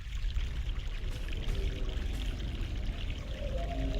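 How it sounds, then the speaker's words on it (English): Fresh mountain water pouring in a stream in The Longest Journey video game: a steady, full splashing rush with a deep low rumble, continuous and even throughout with no talk. "Fresh mountain water"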